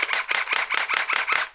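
Rapid string of sharp snapping shots from a Glock gel blaster fired with its slide locked back, about eight crisp pops at an even fast pace, close and loud.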